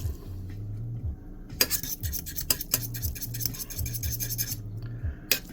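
Instant noodles being stirred with chilli paste in a bowl or pan, a run of scraping, clinking utensil strokes at close range, uneven in rhythm, with a low hum underneath and no talking.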